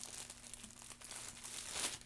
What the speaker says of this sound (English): you'll also have to excuse any rustling. I'm actually eating at the exact same time as this